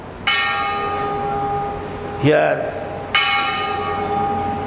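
A single church bell rings at a religious talk, two long resonant strikes with lingering harmonic tails, a spoken word falling between them.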